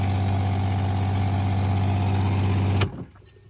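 A camper van's upgraded quiet 40-100 PSI water pump runs with a steady, even hum close by, then cuts off abruptly near the end, leaving faint background noise.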